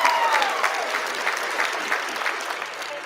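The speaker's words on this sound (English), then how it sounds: "Give me your hand clap." Audience hand clapping during an online reading session of ancient Egyptian literature, a soft, steady patter of claps, somewhat distant and moderate in level, with a faint tone in the background.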